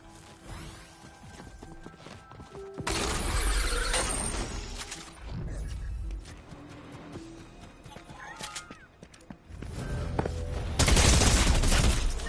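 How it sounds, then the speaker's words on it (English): Loud bursts of gunfire and crashing impacts from the video game Fortnite, arriving in several heavy volleys separated by quieter stretches of game noise. "how the hell did he shoot me up there?"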